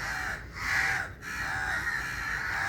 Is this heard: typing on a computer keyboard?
no